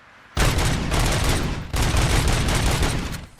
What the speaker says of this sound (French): C'est une mitrailleuse maintenant. Il tire plus en rafale le flingue.